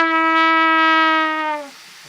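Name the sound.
trumpet note bend on F sharp with relaxed embouchure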